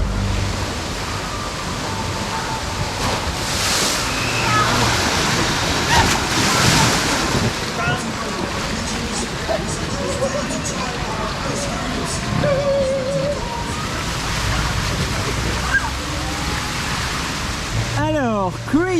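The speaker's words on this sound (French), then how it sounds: "Là ici nous sommes dans une rivière sauvage" Rushing water on the Crazy River wild river ride at a water park roars steadily and loudly with wind buffeting the microphone, and a voice is heard faintly under the water.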